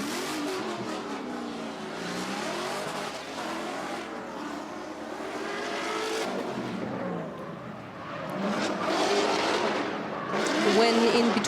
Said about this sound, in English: Okay, so they started the car.